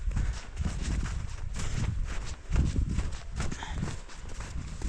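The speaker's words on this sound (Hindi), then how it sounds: "झील के किनारे किनारे लाइन में चलती हुई हमारी भेड़ें" A flock of sheep and goats walks in a line along a lake shore on a mountain trail, hooves clopping and shuffling steadily up close over a continuous outdoor rumble.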